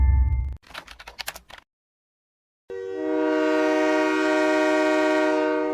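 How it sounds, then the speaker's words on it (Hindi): A train comes into a village railway station at night. A few clattering knocks give way to a pause, then a loud, long, sustained horn blast that holds steady to the end. "मोहनपुरा गांव के रेलवे स्टेशन पर एक ट्रेन आकर रुकी"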